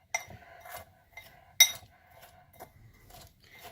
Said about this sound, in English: I can use this spoon just to mix it up.